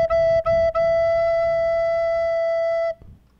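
A single sustained recorder note E, played with the right hand covering holes four and five, sounds clear and steady for about three seconds with a couple of brief breaks at the start, then stops.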